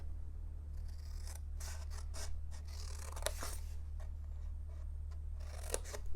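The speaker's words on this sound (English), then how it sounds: "And I'm going to cut these 2 off." Scissors snip through paper while squares are trimmed off a folded paper flip box, several crisp separate cuts with short rustles between them, close and quiet against a steady low hum.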